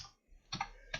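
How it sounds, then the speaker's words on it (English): Two short bursts of keystrokes on a computer keyboard while Python code is written, separated by a quiet pause, close and crisp with no voice over them. "My typing is terrible now since lockdown"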